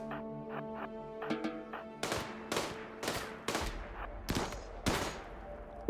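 Gunfire in the RimWorld zombie-colony game Zed City: a series of sharp, spaced shots, about seven cracks at irregular intervals after a few soft tonal blips, moderately loud and with no talking.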